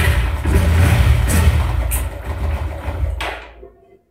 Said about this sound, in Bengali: স্পার্ক প্লাগটি লাগিয়ে দিয়েছি এবং স্টার্ট নিচ্ছে।